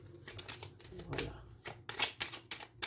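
Tarot cards are shuffled up close in a series of quick riffling, papery bursts, with a quiet voice briefly audible between them.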